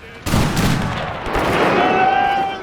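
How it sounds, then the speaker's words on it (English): Massed rifle volleys from a thin infantry line firing at charging Zulu warriors in a Total War battle, a dense, continuous crackle of gunfire that swells and rolls on without pause. "to try and get as many shots off as we can"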